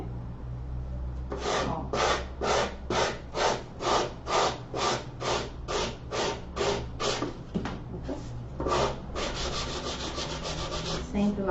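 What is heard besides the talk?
sanding with a foot file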